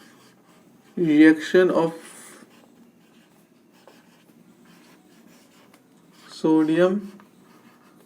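Brief bursts of chalk or marker strokes writing a chemical reaction on a classroom board, two separate scratchy spells between quiet pauses, with a teacher speaking.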